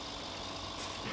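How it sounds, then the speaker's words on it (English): A semi-truck in the video game Death Stranding rumbles along with a steady engine drone and a faint high tone, brief and quiet, with no talking. "Environmentally friendly semi-truck coming through."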